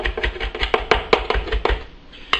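A knife chops fresh thyme on a cutting board, a dozen or so quick, close taps in an uneven rhythm that slows and pauses before one final cut.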